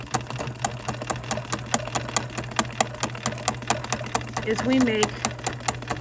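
A BERNINA sewing machine stitching a feather design runs steadily, its needle ticking in a fast even rhythm over a low motor hum, while a person talks over it.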